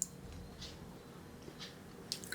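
Close, soft chewing of country chicken curry mixed with ragi mudda, with a few faint moist squishes and bites in quiet surroundings.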